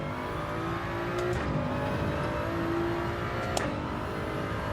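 A race car in the Gran Turismo 7 racing game brakes hard and downshifts aggressively: a steady, loud engine drone whose pitch steps sharply down a couple of times as gears drop, with no talking.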